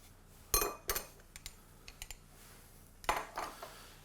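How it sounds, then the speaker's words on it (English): Pecorino cheese shaved over plated pasta all'Amatriciana in a cooking school kitchen, heard as a few light scraping, clinking taps of grater and plate in quick clusters, close and fairly quiet. "we do another little shave of pecorino"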